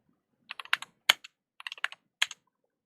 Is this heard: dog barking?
no